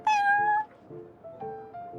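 A cat meows in the Cat's Tail card-game tavern of Genshin Impact: one clear, drawn-out meow followed by two softer, shorter mews, with no one talking.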